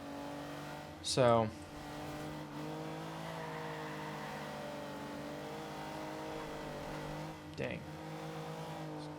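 Race car engines in the Forza Horizon 2 video game, a steady droning engine tone running throughout, with brief bursts of talk over it near the start and end.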